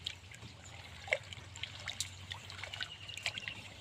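A liquid mixture for feeding jasmine plants is stirred, giving faint, soft swishing and small trickling splashes in an irregular rhythm.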